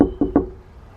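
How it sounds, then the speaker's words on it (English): A front door of a renovated UK house is unlatched and opened, giving two quick close thumps in succession, with a faint hum and a short quiet settle afterward. "Lia is going to open the door right now."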